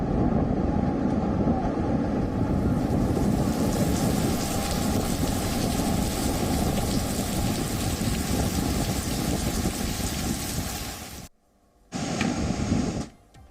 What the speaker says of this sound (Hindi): तूफान यास एक बेहद विकराल रूप और भयावह हो चुका है